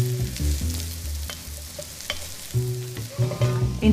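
Mushrooms sizzle and fry in olive oil with onion and thyme in a pan holding meat juices, a steady crackle under clattering stirring, close and fairly loud.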